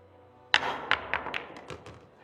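Several sharp cue-on-ball clicks and ball knocks in a Premier League Pool match between Francisco Sanchez-Ruiz and Jayson Shaw, the first strike crisp and close, followed by quicker, lighter collisions as the balls travel, with no talk.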